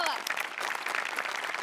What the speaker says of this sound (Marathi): तुझ्या प्रसंगावधानासाठी जोरदार टाळ्या.